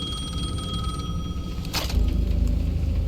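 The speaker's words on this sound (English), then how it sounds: "The payphone at the edge of the plaza was ringing again." A payphone rings at the edge of a plaza in the video game Alan Wake 2, a faint electronic ring over a steady low ambient rumble.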